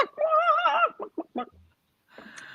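A voice imitates a singing chicken, the cartoon hen Clara Cluck, in a loud warbling, wavering cluck-song followed by a few short clucks, then a pause and faint background noise.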